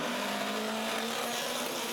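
Rally cars pulling away together from the starting grid at a Belgian round of a 2016 championship, producing a dense, loud roar of engines with a sustained high whine across the whole short burst.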